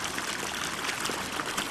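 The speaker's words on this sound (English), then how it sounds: "The water coming out there" Hot water trickles and splashes steadily into a warm pond among sand hills, a soft continuous rushing with no voices.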